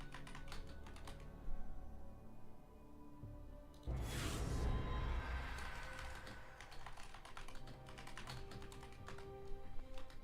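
Keys clatter on a Razer Huntsman computer keyboard in rapid, steady bursts of typing, close and crisp, with a brief louder rush of noise partway through.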